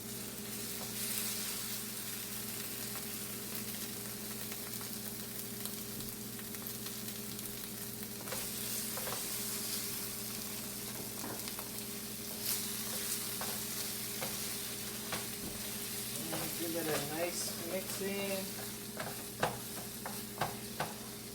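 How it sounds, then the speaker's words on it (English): Almond paste stirred into a hot pan for carp curry, a steady close sizzle and frying hiss throughout with scraping and stirring knocks, denser spoon clatter near the end. "So I'm gonna add the almond now."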